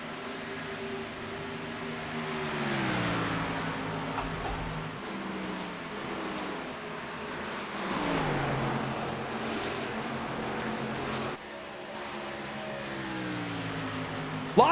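Race cars in an iRacing esports race, with steady engine drone and rising and falling revs from several cars running close together over laps, continuous and fairly loud without talk.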